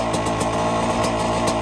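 A motorcycle engine idles and warms up before a ride in white sand, a steady, close, loud running drone with faint rhythmic pulsing and no voices.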